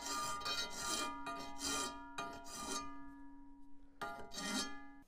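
A hand file rasps back and forth across the end of a metal pointing tool for mortar joints, a few quiet strokes with brief pauses between them, heard close up in a workshop.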